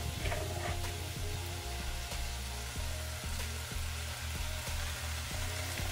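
Kale sautéing in olive oil in a pan, a steady loud sizzle and crackle throughout, with faint rhythmic scraping or ticking beneath the frying.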